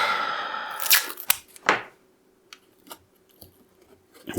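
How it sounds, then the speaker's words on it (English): Tape being torn and cut during a PiDP11 hardware build, a rising ripping sweep followed by a few crisp close-up snips, then scattered faint clicks in a quiet room. "A little bit of tape."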